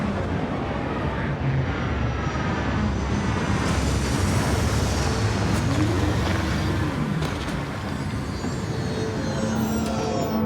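A spaceship setting down on a landing site in Starfield, a steady loud engine roar with a rumbling low end and faint whining tones that holds for the whole ten seconds with no voices.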